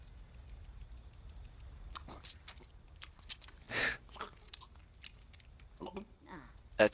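Smeagol munching on fruit in The Lord of the Rings: Gollum, heard as wet, crunchy chewing bursts that come and go irregularly, with voices chatting over and between the bites.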